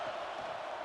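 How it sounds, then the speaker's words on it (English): A roaring football stadium crowd at a college game between Florida International and Penn State, a dense sustained roar under faint commentary. "Listen to this crowd just shaking the girders of this place"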